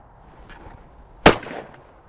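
A side-by-side shotgun fires a single loud, sharp shot at a clay target outdoors, with a short fading tail after the blast in an otherwise quiet setting.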